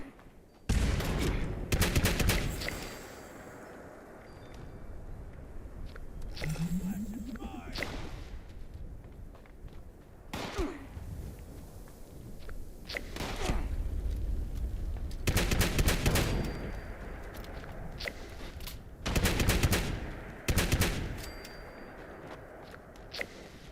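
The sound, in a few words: shotgun gunfire in the video game Fallout 76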